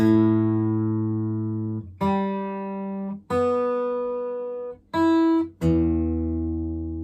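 Single notes plucked one at a time on a 1960 Gibson J-50 acoustic guitar, including the D string, each ringing out and slowly decaying, with a few short gaps between them; close and fairly quiet.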